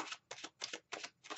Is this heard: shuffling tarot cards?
yes